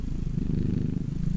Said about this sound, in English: I thought I heard that purring